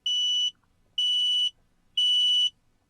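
A home carbon monoxide alarm sounds three loud, piercing electronic beeps, each about half a second long, evenly spaced one second apart, close and clear against a quiet room.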